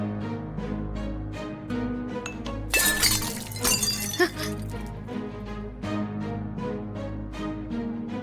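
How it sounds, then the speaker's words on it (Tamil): An object drops and smashes into pieces in a bright, glassy crash lasting about a second and a half, sharp and close over steady background music. "அபசகுணம் மாதிரில இது கீழே விழுந்து உடைஞ்சு போச்சு"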